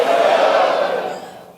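Seminar audience shouting "let's go" together, a loud, brief crowd roar that swells and then fades away.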